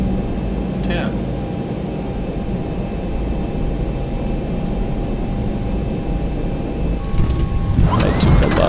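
Boeing 737-800 (Zibo) in a flight simulator game rolling out after landing: a steady broadband roar of engine and wind noise throughout, with a brief louder burst of rumble and rattling near the end.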